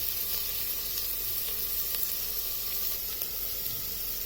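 Onions sizzling in a pan over a medium-high flame for chicken soup, a steady, even hiss and crackle of frying with no pauses or voices.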